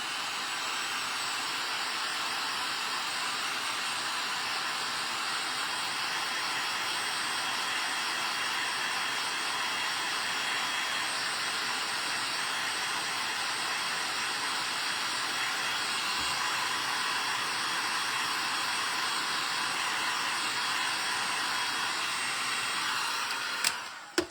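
Continuous steady whir of a hair dryer blowing on a snowman craft, a constant airy hum held for over twenty seconds, ending with a brief click as it switches off.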